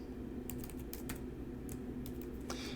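Fingers typing code on a computer keyboard, scattered bursts of key clicks over a steady low background hum, close and fairly soft, with no speech.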